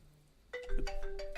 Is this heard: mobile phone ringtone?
yes